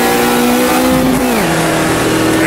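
A race car in Automobilista 2 powers out of the final corner, its engine note dipping at a shift and then rising again in a loud, continuous roar.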